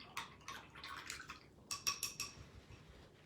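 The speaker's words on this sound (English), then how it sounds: "now I am going to wash my paintbrush" A paintbrush being rinsed in water, small faint splashes and swishes in two short bursts with a quiet gap between them.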